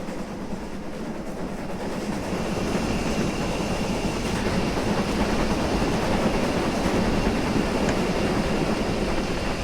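A WD steam locomotive in Train Simulator Classic on the North Norfolk Railway runs with a loud, continuous rumble and rhythmic clickety-clack of wheels on rail, steady and close throughout with no voices.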